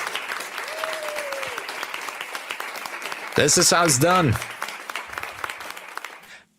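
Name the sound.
applause sound effect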